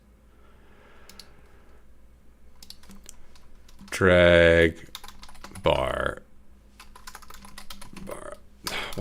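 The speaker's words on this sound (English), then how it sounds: "I'm not that bad at typing." Typing on a computer keyboard while building a dungeon crawler game, faint scattered key clicks, broken by two loud bursts of speech in the middle.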